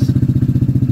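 A Honda ADV160 scooter engine with a remapped stock ECU runs in a rapid, even low-pitched pulse just after starting, loud and close, with no other sound over it.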